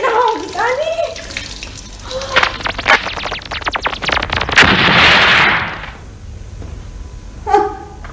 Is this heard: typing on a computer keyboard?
no